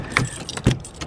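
A set of keys jangles briefly close by, two quick metallic shakes about half a second apart, with no talk over them.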